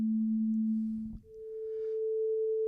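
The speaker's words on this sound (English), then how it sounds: "These are pure tones of an organ pipe." An organ pipe sounds a pure, steady tone that shifts abruptly to a single higher pitch midway, each note a clean, even hum without voices.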